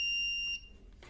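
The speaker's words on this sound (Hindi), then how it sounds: "इसके अंदर दोस्तों बजर भी काम कर रहा है" A small buzzer on a single-battery free-running inverter board built around a PIC16F72 microcontroller sounds one steady, high electronic beep that holds for about half a second and then cuts off, leaving quiet background noise.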